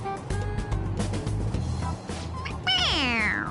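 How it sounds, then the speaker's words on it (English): A toy cat gives out an electronic meow when its head is pressed, one clear rising-and-falling cry near the end after a stretch of game background noise. "It meows when you press on its head."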